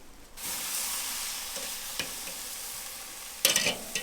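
Candied jalapeño glazed flank steak sizzles on a grill just after being flipped, a steady hissing fry close by with a few sharp clanks of a utensil, no voices.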